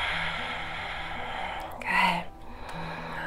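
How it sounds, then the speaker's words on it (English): A single deep breath drawn during a seated chair yoga back bend, swelling briefly to a soft, close rush of air over a steady low hum before fading. "You want to pause there and take a deep breath."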